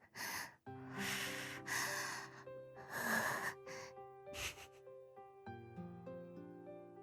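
A character in the visual novel game 9-nine- pants in several breathy bursts of gasping breath, set over a soft, sustained musical backing.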